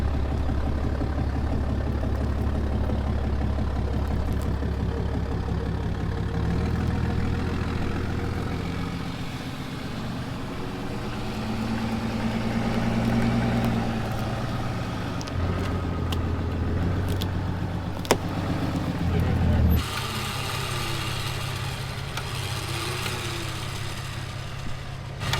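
A vehicle engine runs steadily for a long stretch with a low rumble, swelling slightly under load as it strains to drive forward, then shifting abruptly near the end.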